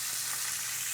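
Four brown butter steaks fry in separate pans, a steady, close, bright sizzle throughout with no talking.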